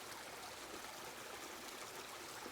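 Water runs steadily through a Royal Manufacturing sluice box outdoors, a continuous close trickling and rushing wash that holds at an even level throughout, with no talking.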